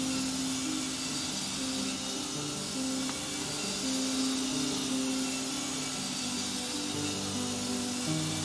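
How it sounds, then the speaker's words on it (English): Spinning saw-blade hazards whir in the video game Hollow Knight, a steady droning buzz with shifting tones that holds for several seconds without a break, loud and close. "Okay, more chainsaws."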